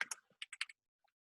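Quick bursts of typing on a computer keyboard, a handful of crisp, close key clicks in an uneven cluster, then two faint trailing taps in an otherwise silent room.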